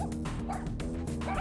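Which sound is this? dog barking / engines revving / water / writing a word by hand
dog barking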